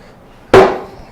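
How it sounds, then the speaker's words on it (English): A hammer strikes once on a wooden cherry bowl blank to seat it on a large four-prong drive center in a lathe chuck, a single sharp, close wooden knock with a short decaying ring. "Just take a hammer to kind of mark where I'm going to hang or mount this on."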